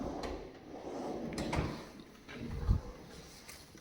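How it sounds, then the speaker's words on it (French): A kitchen storage drawer slides open and shuts with a soft rolling rumble and two dull bumps, heard close in a quiet apartment room. "Et des tiroirs de rangement jusqu'en bas."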